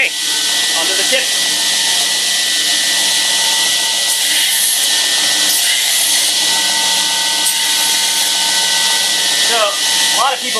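A knife blade's tip being ground on a power grinder or belt sander, a steady loud whine running continuously with slight shifts in pitch and a few brief scraping accents.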